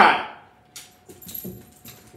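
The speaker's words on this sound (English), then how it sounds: "Scared the dog." A startled dog gives a short sharp bark or yelp near a kitchen where kale soup simmers, followed by a few faint scattered sounds of movement and small clinks.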